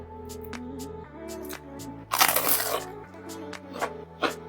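A single loud crunchy bite into toasted meat toast made with lemongrass and green onion, followed by quieter chewing crunches, set against steady background music.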